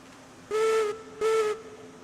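Steam locomotive whistle in the railroad game Railroads Online, two short clear toots in quick succession, each about half a second, with a faint hiss in between.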